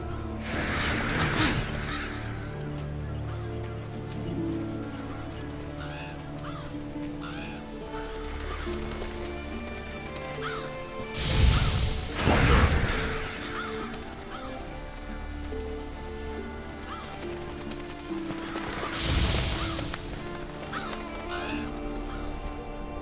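In The Witcher 3 as played in Monster Hunter World, a flock of black birds attacks with harsh overlapping caws and flapping, swelling into loud bursts at intervals over a dense game soundscape of music and effects.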